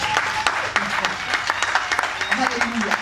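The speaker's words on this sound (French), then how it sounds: "Il faut commencer à acclamer Jésus." Congregation at a French-language thanksgiving church service acclaiming Jesus, with dense crowd applause and cheering, sharp claps popping through a continuous roar of voices.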